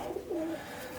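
Soft cooing from a Birmingham Roller pigeon, a breeder bird, two low rolling coos close by against quiet background.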